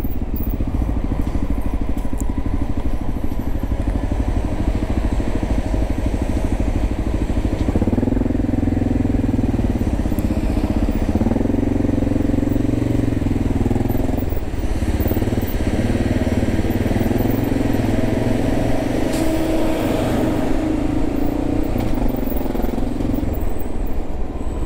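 A motorcycle engine fitted with a Neutron CDI and a carburetor idles and runs steadily nearby, with a low rumbling drone, a noticeable rise in revs partway through, and occasional small hesitations.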